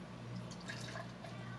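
Urban Funk, a wild sour ale from Area 2 Experimental Brewing, is poured into a mug, giving a soft, steady liquid trickle with faint splashing and fizz, quiet and close.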